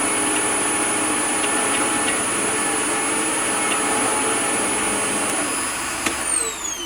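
Riccar Tandem Air upright vacuum cleaner running with the machine opened so the head drives airflow on its own: a steady, loud motor whine with a high tonal hum, dropping in pitch near the end as it powers down.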